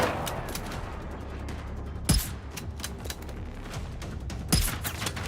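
Two sharp gunshots from a firearm in the shooter game Generation Zero, spaced a couple of seconds apart over a steady, noisy background rumble.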